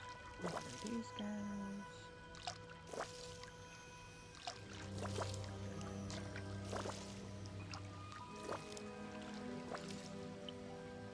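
Crops being watered with a watering can in a farming video game, soft dripping and splashing water effects repeating over steady background game music, with a voice speaking briefly now and then.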